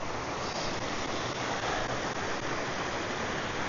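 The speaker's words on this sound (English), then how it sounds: "So we've got an absolute treacherous river crossing here now." Rushing water at a treacherous river crossing on a Peak District hike, a steady broadband roar close by that fills the whole clip without pause and carries no voices.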